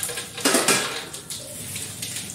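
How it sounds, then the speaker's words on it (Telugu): Peanuts drop into a hot pan of mustard seeds, a short rattling clatter followed by soft sizzling, close by and brief. "పల్లీలు ఇలా వేయాలి."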